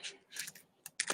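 Quick bursts of clicky keystrokes on a computer keyboard, close and fairly quiet, with short pauses between flurries of typing.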